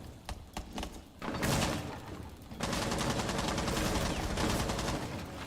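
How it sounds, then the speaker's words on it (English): Bursts of gunfire in a Rainbow Six Siege tactical shooter match, a few sharp shots early followed by sustained rapid firing and clatter that stays loud through the rest. "Yeah, he's getting shot, he's getting shot."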